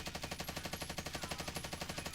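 A Stoner 63 machine gun fires full-auto in the Warzone video game, a fast, evenly spaced stream of shots running unbroken through the clip at a quiet, distant level.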